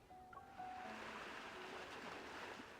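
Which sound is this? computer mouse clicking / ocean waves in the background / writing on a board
ocean waves in the background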